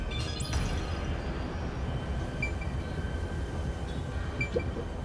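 Continuous low rumble of a train running on rails in the video game Raincode, heard as if from inside a train car, steady and broadband with faint high metallic squeaks.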